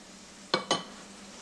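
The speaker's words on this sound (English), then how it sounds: "Stir that, mix it well in, scrape across the bottom, otherwise it could catch later" Flour is stirred into watercress soup in a pan, with two quick scraping clinks of a utensil across the pan bottom, then a fainter third touch, over a low background hum.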